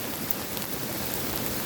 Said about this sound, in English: I'm standing out in a hailstorm